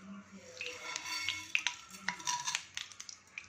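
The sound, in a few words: mustard seeds, chana dal, urad dal, fenugreek, cumin spluttering in hot oil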